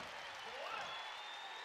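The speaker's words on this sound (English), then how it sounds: "Well, that'll wake the crowd up." Basketball crowd at a college game roaring and applauding after a three-pointer beaten at the shot-clock buzzer, a dense steady wash of cheering throughout, with a faint rising whistle-like tone above it.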